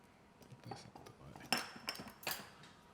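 Sourdough apple crisp ingredients with cinnamon, apple pie flavoring and salt being mixed in a bowl, heard as a few scattered clinks and scrapes of a utensil against the bowl, fairly faint and close.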